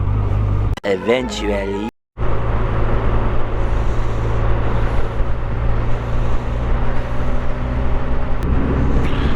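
Harley motorcycle cruising at about 10-15 miles an hour on a Yellowstone road, a steady close engine rumble running throughout, briefly interrupted near the start, with a short spoken word.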